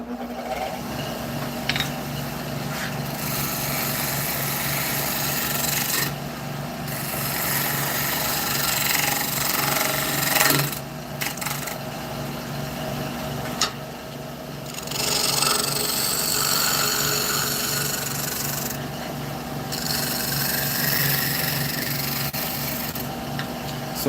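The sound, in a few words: shear scraping a cherry wood bowl on a lathe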